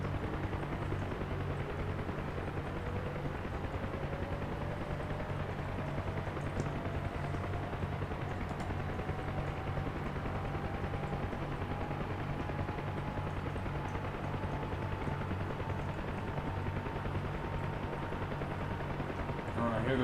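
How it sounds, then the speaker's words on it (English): The turbine of a UH-1 Huey helicopter in DCS spools up steadily, a rising whine climbing in pitch over a constant low engine drone for the full twenty seconds. "I hear the turbine going."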